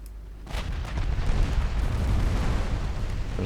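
Naval guns fire in the strategy game Ultimate Admiral Dreadnoughts, a heavy boom that opens into a long, loud rumbling roar and echoes of distant salvos.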